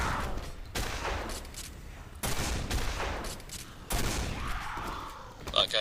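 Sustained gunfire in the Quake 4 video game at the MCC landing site, a steady barrage of shots in dense bursts, loud and continuous, with game voices and effects mixed in.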